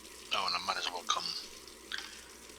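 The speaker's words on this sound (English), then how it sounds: "turn the sink on" Sink tap in the Brewmaster beer brewing simulator game running water in short bursts, with broadband splashing around a second and again near the end, fairly quiet and close, alone.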